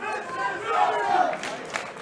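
A wrestling crowd in an arena in Newcastle roars and cheers loudly and steadily throughout, with scattered shouts rising out of the dense wall of voices during a Drew McIntyre versus Will Ospreay championship match.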